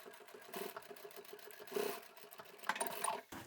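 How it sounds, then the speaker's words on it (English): A sewing machine stitches a vinyl upholstery bag in several short runs, its motor whirring and needle chattering in bursts with pauses between, fairly quiet and close. "do this over at the sewing machine and use your stitch plate as a guide"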